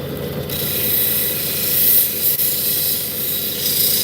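Obsidian or fossil stone grinds against a spinning 1200 grit wheel, a loud close continuous rasping whir with water hiss, briefly dipping in pressure midway.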